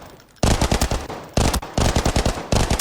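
Loud automatic rifle fire in Arena Breakout Infinite, with rapid bursts of shots broken by short pauses and each round sharply distinct, close and alone.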